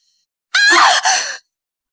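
A single sharp scream-like cry lasting under a second, loud and close, with a brief break midway, alone in otherwise silent surroundings.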